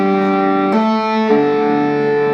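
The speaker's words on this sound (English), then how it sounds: "when you switch on distortion on the electric guitar. And you just fret a note" A single fretted note rings out on an electric guitar with distortion, a thick sustained buzzy tone that briefly shifts partway through and then holds steady, loud and alone.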